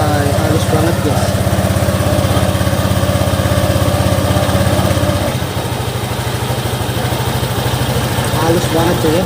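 A freshly serviced motorcycle with a CVT drivetrain idles smoothly up close, a steady low, even throb that drops slightly in pitch partway through and holds constant to the end.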